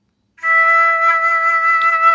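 A recorder holds a steady E note after a short silence, one clear sustained tone lasting nearly two seconds, close and unaccompanied.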